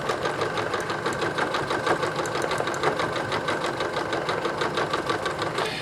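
A Singer 9970 sewing machine with a size 12 universal needle stitching at a steady fast pace, its rapid even mechanical clatter loud and close, running continuously throughout.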